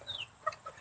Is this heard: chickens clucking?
yes